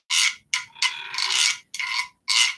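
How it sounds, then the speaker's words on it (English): A stick scraped across a wee drum in five rasping strokes, the middle one long and drawn out, close and fairly loud with short pauses between, no voices. "We're actually going to scrape this instrument."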